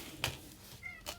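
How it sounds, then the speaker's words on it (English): Millie the cat gives a faint, soft meow and a couple of short muffled calls, heard quietly from some distance in a calm room. "I hear a bad kitty."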